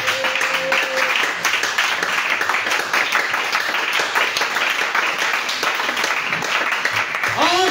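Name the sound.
congregation applauding and cheering for Jesus in church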